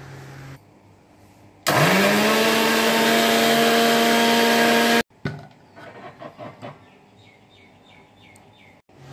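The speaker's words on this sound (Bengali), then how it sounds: "এবার আমি একটা মিক্সির বাটির মধ্যে তরমুজটাকে পেস্ট করে নিচ্ছি।" A mixer grinder blending watermelon flesh into paste: an abrupt, loud motor whine winds up and runs for about three seconds, then cuts off, followed by quieter clatter and knocks.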